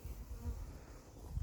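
Bees hum at the entrance of a beehive, a low, close, continuous buzz that swells and fades slightly with no voices.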